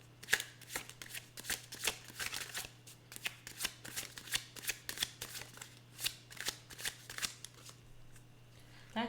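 Tarot cards are shuffled steadily in a near, crisp run of riffling bursts with a faint steady hum underneath, and no voices.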